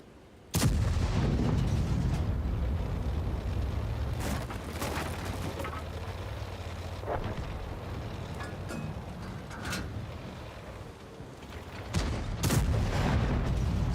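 Heavy booming shots from a tank gun sound in a UK tank video game, several loud blasts spread across the stretch over a constant rumbling engine and battle bed.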